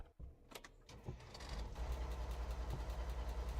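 A truck engine in the game Alaskan Road Truckers cranks with a few clicks and clunks, catches, and settles into a steady, rhythmic low idle.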